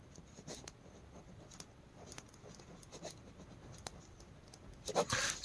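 A pen scratches across paper in short, faint strokes and ticks, quiet and close, with a louder cluster of scratching near the end and no other sound.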